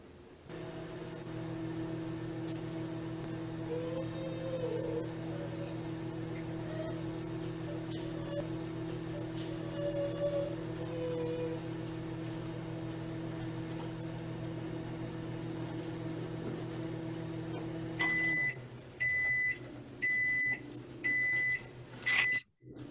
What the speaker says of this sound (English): microwave the food in the oven for 30 seconds